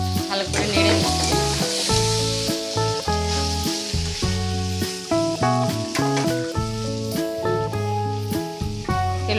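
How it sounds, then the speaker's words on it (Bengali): Cut potatoes sizzle in a pan with asafoetida and are stirred now and then, a steady frying hiss running under prominent background music. "কেটে রাখা আলুগুলো দিয়ে ভালো করে নেড়ে নিচ্ছি।"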